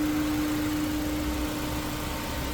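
The 1.5-litre turbocharged engine of a 2024 Chevrolet Captiva Premier runs at a steady idle, a constant close hum with a faint whine above it and no voices.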